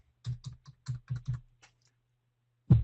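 Bursts of keystrokes on a computer keyboard as a username is typed, about six quick clicks in an uneven rhythm, then a pause and a louder thump at the end, close and with no talking.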